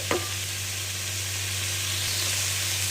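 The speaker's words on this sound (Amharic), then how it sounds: "አተሩን ነው እየጠበስኩት ያለው።" Peas frying in a pan with spices, garlic and onion, a steady close sizzle with a brief stirring scrape at the start and no talking.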